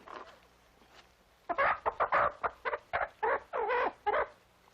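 A hen clucking close by in a quiet room: a quick burst of about a dozen loud, throaty clucks in an uneven rhythm after a near-silent start.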